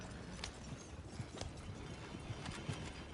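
Horse hooves clip-clop in the Red Dead Redemption 2 video game, a quiet, steady walking rhythm of soft thuds over faint ambient noise.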